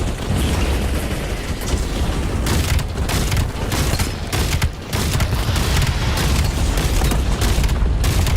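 Rapid three-round bursts from a video game gun crackle loud and close, repeating almost without pause amid dense explosive battle noise, with brief dips between volleys.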